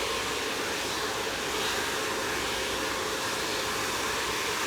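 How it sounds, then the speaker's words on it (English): A hair dryer blowing on the back of a freshly cut shag haircut, a steady loud broadband whoosh of airflow that runs unbroken throughout with no voices. "You want to see me dry the back of the hair"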